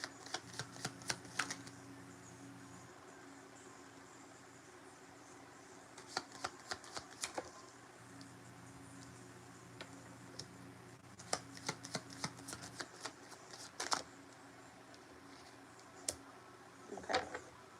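Playing cards are shuffled in a quiet room during a card reading, with soft riffling bursts coming in several clusters between stretches of faint background hum.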